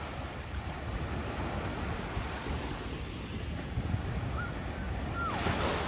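Steady wash of ocean surf on a warm-water beach in Fortaleza, a continuous broad rush with wind buffeting the microphone and no distinct individual wave breaks.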